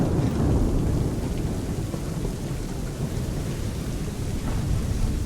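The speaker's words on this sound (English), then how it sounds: "I'd say it's high time we find some cover from this storm, Captain." Heavy rain pours down in an Assassin's Creed III thunderstorm, with deep thunder rumbling under the steady loud wash of the downpour and no voices.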